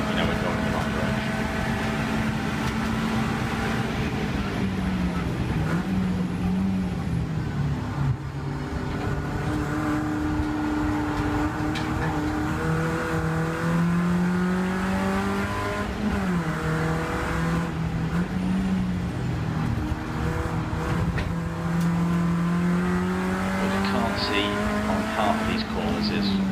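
Race car engine at Rockingham track, revving continuously and loud from the cockpit, pitch rising and falling as the throttle opens through corners, with a driver talking over it.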